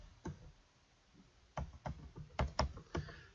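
Typing on a computer keyboard: a handful of sharp, sparse keystrokes in irregular bursts, close and fairly quiet, with a lull in between and no talking.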